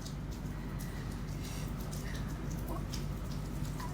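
Steady rain falls throughout, a dense, even patter of drops on a surface with no breaks, moderately loud and close, with faint traces of a voice underneath.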